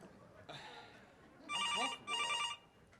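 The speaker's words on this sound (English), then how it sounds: "Does that phone ever shut up?" A telephone rings in two long electronic bursts, loud and close, each trill warbling steadily before cutting off, with softer room noise and a brief voice-like sound before the rings.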